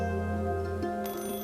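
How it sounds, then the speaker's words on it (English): A telephone rings in the video game Assemble With Care, a steady, bright, sustained ringing tone that continues through the whole moment with no talk. "Just then, the phone rang."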